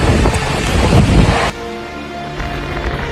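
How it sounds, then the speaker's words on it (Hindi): A strong dust-storm wind in Gurugram, Haryana, gives loud roaring gusts buffeting the microphone, which ease suddenly partway through into a lighter, steady rush. "देखिए किस तरह से आंधी के साथ धूल का ऐसा बवंडर आया कि सब कुछ मानो थम सा गया।"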